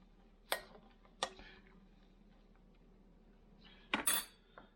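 A spoon stirs oats in a bowl, giving a few sharp clinks and scrapes against the side: two quick taps early, then a louder cluster near the end, over a quiet room.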